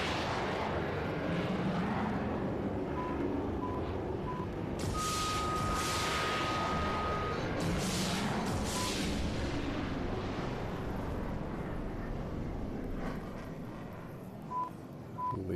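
An airplane engine in the video game PUBG Mobile drones in a loud, steady roar with rising and falling surges, close and continuous, easing slightly toward the end.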